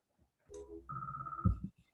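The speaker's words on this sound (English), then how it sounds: "Sorry, my phone just rang." A mobile phone rings with short electronic tones, a sustained chime followed by a few soft thumps, fairly close and alone in an otherwise quiet room.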